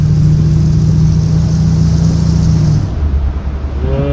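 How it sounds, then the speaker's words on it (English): A 1960 Chevy Bel Air cruising at 70 mph on a highway, a steady loud engine drone and road rumble that holds evenly for most of the stretch before the low hum drops away near the end. "You could drive at 70 miles an hour down the highway like I am right now"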